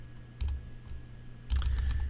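Keys clack on a computer keyboard while a command is entered, with a few quick taps, a pause, then a denser burst of keystrokes, close by and with no talk.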